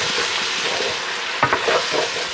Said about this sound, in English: we're going in with a port wine, which is kind of a sweet wine.